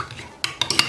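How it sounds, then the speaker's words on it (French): Metal spoon clinking against a cup while stirring instant coffee into hot water, a few sharp bright taps grouped late in the short moment after a soft rustle, close and clear with no talking. "vous allez mettre une cuillère de café à l'intérieur. Et vous allez remuer."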